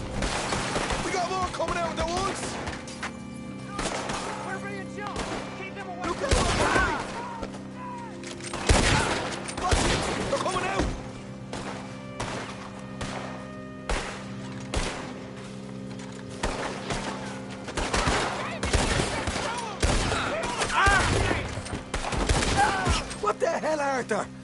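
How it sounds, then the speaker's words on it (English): Repeated gunfire during a shootout in the Red Dead Redemption 2 video game: loud, sharp shots crack in irregular bursts and volleys over about twenty-five seconds, with a steady low background hum and shouting voices in between. "We're being shot!"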